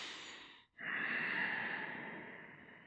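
Slow audible breathing during a yoga breath cycle in a lunge, one long steady airy exhale following a brief pause, close and alone with no talking.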